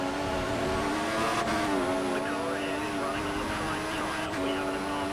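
F1 2014 car in the video game, wheel spinning in 6th gear, a steady high engine whine with harmonic bands held throughout under continuous racing noise, with no clear rise in pitch.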